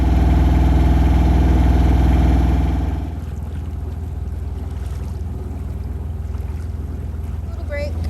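A sailboat motoring along the Intracoastal Waterway, its engine chugging in a loud, steady low drone that eases slightly partway through, with wind and water noise around it.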